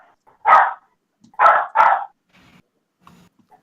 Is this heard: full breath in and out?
no